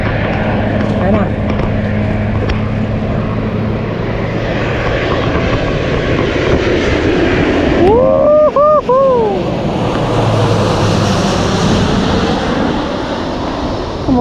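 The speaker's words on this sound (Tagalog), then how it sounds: "parang kitang kita nyo yung aeroplano dyan na lumalapag" A landing airplane near the runway at Changi airport in Singapore, its engines a broad steady roar across the whole span, with people talking close by throughout.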